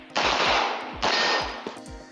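Gunshots on a shooting match stage, two loud sharp reports about a second apart followed by a fainter third, close with ringing echo.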